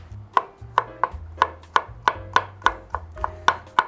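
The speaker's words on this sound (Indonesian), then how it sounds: "Bawang putih dicacah" A knife chops garlic coarsely on a board in crisp, evenly spaced thuds, about three a second, close and clear with nothing else heard.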